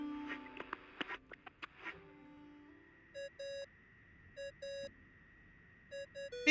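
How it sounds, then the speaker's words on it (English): A phone ringing tone in the video game Genshin Impact sounds as repeated short electronic beeps in paired bursts over a steady high tone, clear and alone after a few early clicks and taps. "I really hate that ringing tone."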